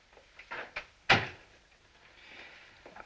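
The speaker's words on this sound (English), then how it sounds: "Close the door." An indoor door in a 1961 thriller is shut with one sharp, close knock near the middle, preceded by a few softer footstep-like bumps in a quiet room.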